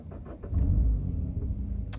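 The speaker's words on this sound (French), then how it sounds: "start engine juste ici, écoutons le bruit du moteur tous ensemble" A Mini One 98 hp Brick Lane Edition starts up close by: a short crank with faint clicks, then a low engine rumble that settles into a steady idle.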